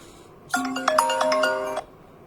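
A telephone ringtone sounds once, a bright melodic electronic ring lasting just over a second, loud and alone with no talk over it.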